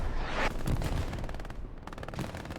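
Rapid gunfire in Hell Let Loose during a competitive match, a dense, continuous rattle of shots filling the whole short stretch at moderate loudness with no talk.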